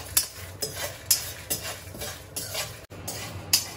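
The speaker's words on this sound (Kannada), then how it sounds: "ಆಮೇಲೆ ಸ್ವಲ್ಪ ಮೆಂತೆ. ಇದನ್ನ ಒಂದು ಸ್ವಲ್ಪ ರೋಸ್ಟ್ ಮಾಡ್ಕೋಬೇಕು." Fenugreek seeds being roasted in a pan, with rhythmic scraping and stirring strokes, light metallic clinks of a spoon against the pan and a faint sizzle underneath.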